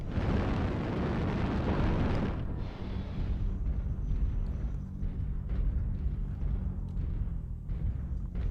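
An airstrike lands in Mechwarrior Online with a loud, rumbling explosion that roars for about two seconds, then fades into a lower, lingering rumble of battle.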